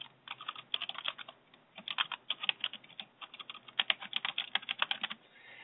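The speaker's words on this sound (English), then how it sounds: "I'll type that in there" Keys clatter in quick, uneven bursts on a computer keyboard, close and fairly quiet, with short pauses between runs and no voices.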